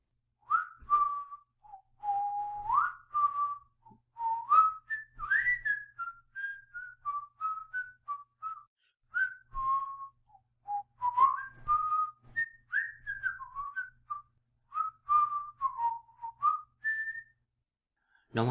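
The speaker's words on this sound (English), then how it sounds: "He whistles. First an air from Robert le Diable, then a popular song, then a blend of the two." A lone man whistles a melodic air from the opera Robert le Diable, then a popular song, then a blend of the two, in a steady stream of short bright phrases, close and clear with no talking.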